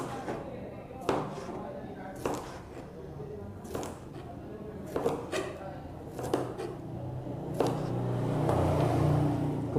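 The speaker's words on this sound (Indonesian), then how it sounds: "Kemudian kita iris ya. Kita iris miring." Knife slicing a cucumber diagonally on a cutting board, about ten crisp chops spaced irregularly, with a person talking throughout.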